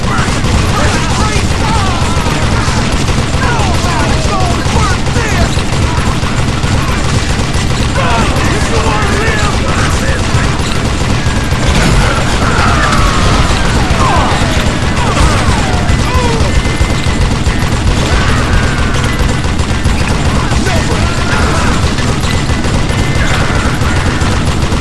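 Dense gunfire from the Western shooter Call of Juarez: Gunslinger crackles and booms almost without pause, loud and close, mixed with game effects and music throughout.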